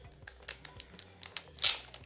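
Plastic packaging around a phone case crinkles and tears in short, rustling bursts, ending in one louder rip. Close and fairly quiet, with no voice.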